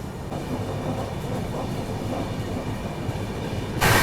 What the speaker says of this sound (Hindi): अभी देखो वापस से हाई स्पीड एक्शन यहाँ पर शुरू हो गया है। 130 अपनी ट्रेन पहुंच चुकी है।